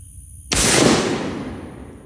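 Shotgun firing steel shot through a Muller Decoy choke at a 50-yard target, a single loud close blast with a booming tail that decays over about a second and a half.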